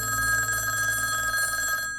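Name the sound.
telephone ringing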